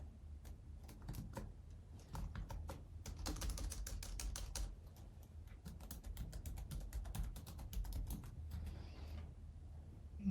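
Rapid, close clatter of keys on a computer keyboard as an email and password are typed, uneven bursts of crisp clicks with brief pauses, steady throughout with no talking.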